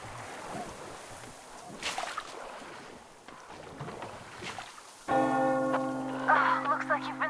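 A church bell rings in Metro Exodus: after a stretch of wind and water ambience, a loud metallic bell strikes and rings on with a sustained, humming resonance.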